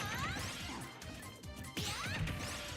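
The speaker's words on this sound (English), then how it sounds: "Back-to-back forward smashes from Nezuko." Sharp smash and whack impacts from forward smash attacks landing in a Super Smash Bros video game, two heavy hits back to back with whooshing swings and crowd-like game noise underneath.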